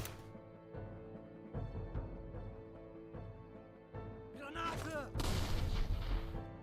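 Gunfire in a sniper-themed war video game, with sustained bursts of shots and booms rolling over a low steady game backdrop, growing louder and denser toward the end.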